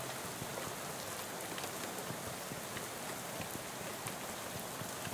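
Steady rain in the video game Shadows Over Loathing, a dense unbroken hiss of drops pattering on surfaces, constant and even throughout with no voices.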